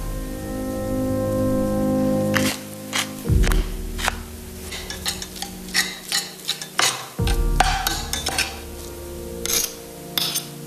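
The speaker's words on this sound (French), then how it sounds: "à l'aide de 2 fourchettes, je vais écraser les œufs" Eggs mashed with two forks, heard as close clinks and scrapes of metal on a bowl in irregular bursts, following a sustained kitchen hum at the start.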